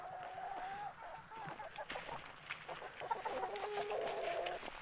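Two roosters cluck and make low warbling calls in repeated bursts, fairly near, over faint background rustle, with no voices.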